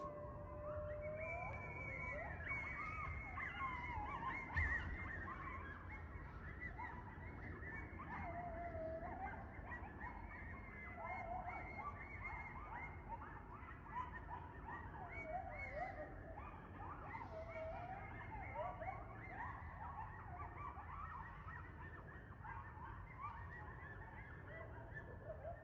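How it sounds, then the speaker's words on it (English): A pack of coyotes howls far back in the woods, a couple of miles away, with a chorus of overlapping wavering yips and rising and falling howls that carries on steadily for nearly half a minute. "That was a pack of coyotes, probably a couple miles back in the woods"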